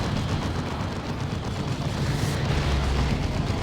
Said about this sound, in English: Orbital bombardment thrown in from Zorander.